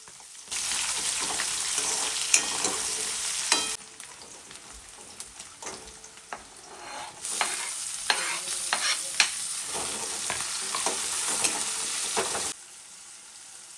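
Onion sizzling and frying in oil in a pan while being stirred, with steady loud crackling broken by scraping stir strokes and short quieter pauses, no talking.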